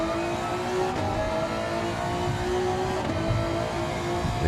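A pack of Japanese race cars in a Clio Cup racing game drones steadily on track, a dense, loud, continuous engine roar with slight pitch shifts and no voices.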